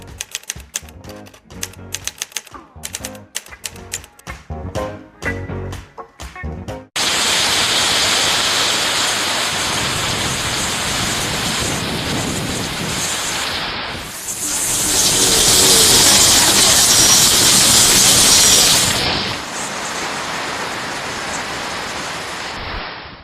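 Raw water rushes through a treatment plant channel at the Comusa water works in a loud, continuous roar that swells midway, preceded by several seconds of broken, clattering noise.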